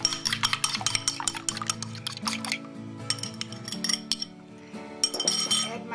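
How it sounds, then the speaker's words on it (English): Eggs are beaten in a bowl with a fork, giving rapid clinking, tapping strokes against the bowl in quick bursts with short pauses, close and clear without talk. "And now I'm slightly beating the eggs."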